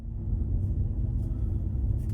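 Steady low engine rumble and road noise from inside a moving car cruising along Ocotillo Road in a residential area, continuous and fairly loud with no talk.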